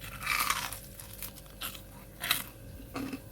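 Someone bites and chews crispy fried pempek made from milkfish and chicken, with a few close, dry crunches spaced out over a few seconds and no talking.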